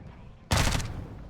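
Call of Duty gunfire cracks out abruptly as a loud, close burst of rapid shots. It starts sharply and then trails into a ringing decay, with no talk over it.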